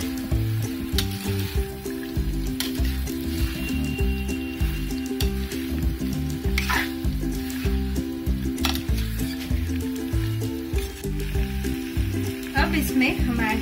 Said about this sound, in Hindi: अब हमें हमारे चिकन को अच्छे से इन मसालों में मिक्स कर लेना है।